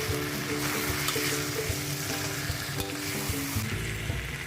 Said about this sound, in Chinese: 就这样子翻炒一下，然后就可以放所有的鸡肉下去了。